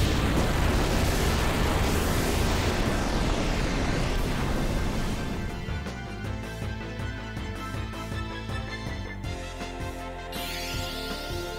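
Bahamut's summon in Final Fantasy IX fills the scene with loud, continuous roaring explosions that give way to bursts and rumbling booms layered over game music.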